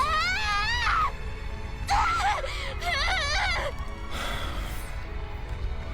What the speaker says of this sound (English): She lets out a raw, desperate scream and refuses to release her grip.